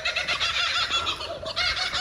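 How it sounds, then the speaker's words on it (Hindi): Birds in Ku-ring-gai Chase National Park call continuously and fairly loudly, a dense clucking chorus with no one speaking. "ये यहाँ के पक्षी हैं।"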